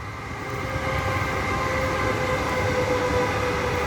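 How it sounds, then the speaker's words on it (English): A train rolls past nearby in a steady, loud rumble with a faint whistling tone, filling the whole stretch without voices. "Sorry, my guys, it's a train"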